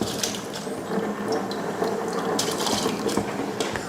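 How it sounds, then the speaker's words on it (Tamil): Soaked rice tumbling into a pot of water seasoned with cumin, coriander leaves, mint and salt, a steady close rattling, pattering pour with bright splashy bursts throughout, no voices. "இதில் ஊற வச்ச அரிசி சேர்த்துடலாம்."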